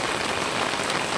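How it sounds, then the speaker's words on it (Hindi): Steady rain falling at the onset of the monsoon in North East India, a dense continuous hiss of drops on surfaces, loud and even throughout with no voices. "वो बारिश शुरू हो चुकी है।"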